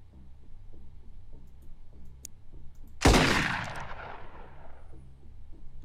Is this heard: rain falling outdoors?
no